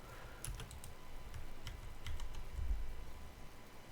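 Computer keyboard keys, including the Ctrl key, clicking in quick irregular taps during SketchUp push-pull modeling work, close and fairly quiet over a low background hum.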